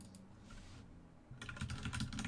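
Computer keyboard keys clatter during a typing test, a quiet pause first and then a rapid burst of close, crisp keystrokes that grows busier toward the end.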